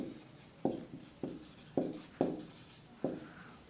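Chalk or marker writing a question on a board: five or six sharp scratchy strokes in steady rhythm, close and clear with no talking.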